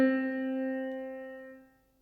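A single sustained musical note C, struck cleanly and ringing with rich overtones before fading out after about a second and a half.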